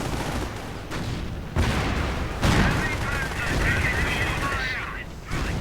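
Machine-gun and cannon fire crackle in dense bursts as tanks, including a Panther, come under attack in a video game battle, with a caster talking over the shooting.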